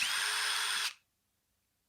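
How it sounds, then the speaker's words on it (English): A DeWalt 20-volt max drill whines in a single loud steady burst of just under a second, then stops abruptly, leaving silence. "My drill, it's literally a DeWalt 20-volt max."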